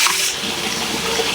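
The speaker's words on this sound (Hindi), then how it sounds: "अब हम इसको दाल को इसी में डाल देंगे।" Cooked lentil dal being poured into a pan of hot spiced tempering for palak dal, giving a steady, loud splashing and sizzling pour that lasts throughout.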